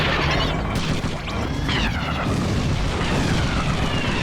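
Missile explosion in the Twisted Metal 4 video game, a dense, loud booming blast that roars on continuously across the whole stretch with crackling debris and no quiet gaps.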